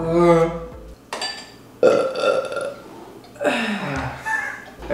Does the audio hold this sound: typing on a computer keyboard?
no